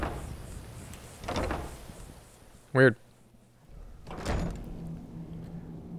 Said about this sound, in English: Door's a little bit open.